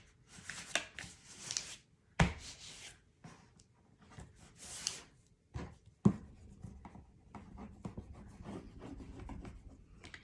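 Paper being folded and creased by hand for a craft album base, with brisk rustles, rubs and sharp scraping strokes in irregular bursts, close and fairly quiet.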